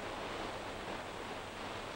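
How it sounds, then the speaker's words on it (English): Steady, choppy surf of 3 to 4 foot waves at Palm Beach during a surfing contest final, a continuous broadband wash of water with no distinct breaks, fairly faint and even throughout. "The waves at Palm Beach were only 3 to 4 feet for the finals."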